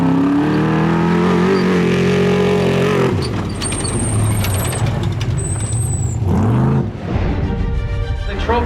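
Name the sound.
trophy trucks racing into Ensenada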